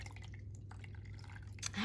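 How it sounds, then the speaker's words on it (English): Water poured into a Treasure X robot toy container, quiet soft dripping and trickling splashes over a low hum, swelling into a louder pour at the very end. "So we're gonna put some water inside here."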